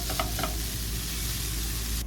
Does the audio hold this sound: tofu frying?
yes